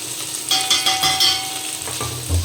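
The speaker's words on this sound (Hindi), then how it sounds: "तो चलिए इसको अच्छे तरीके से फ्राई कर लेते हैं।" Aloo gobi, potato and cauliflower with turmeric, chili, garam masala and coriander, sizzles steadily in a pan, with a continuous broadband frying hiss and occasional stirring scrapes and clinks, fairly close and with no voices.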